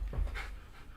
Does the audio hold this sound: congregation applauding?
no